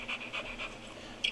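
A dog pants fast and hard at close range during a tornado outbreak storm chase, quick rhythmic breaths repeating several times in just over a second, with no one talking.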